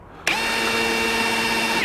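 A power drill whirs up sharply and holds a steady high-pitched spin, boring holes through a metal mounting plate on a Ford Raptor roof rack install, loud and close with no talk.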